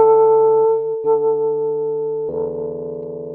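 A single guitar D note is fed through the Anukari resonance plugin in Ableton, mixing partly dry signal with a sustained, ringing tone whose resonance shifts and thickens partway through, heard alone without talk.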